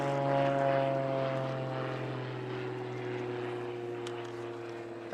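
An Extra 330 SC aerobatic airplane flying at a power unlimited aerobatics competition, its propeller engine droning with a steady tone that slowly drops in pitch as it fades slightly into the distance, no one talking.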